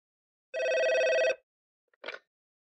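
Telephone ringing on a call to a friend's office, one long, bright electronic ring lasting under a second, then silence and a brief second burst as the ring starts again, clear and isolated.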